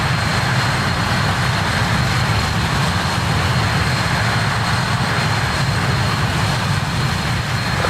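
Four-engine RJ Professional airliner engines in Microsoft Flight Simulator 2020 make a steady, loud jet roar with a low drone and a faint high whine, holding even and unbroken throughout.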